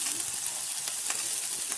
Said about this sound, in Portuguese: E aqui a gente vai fazer a fritura do presunto